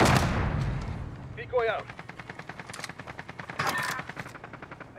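Gunfire rattles in a multiplayer video game: rapid repeated shots in bursts, with a loud opening blast and later clustered volleys, while players talk over the action.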